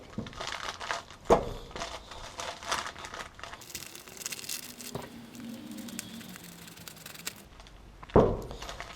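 Scissors cutting through upcycled neoprene to make a boot dryer, crisp crinkling and snipping close by, with a few sharper crunches and a steadier rustle in the middle.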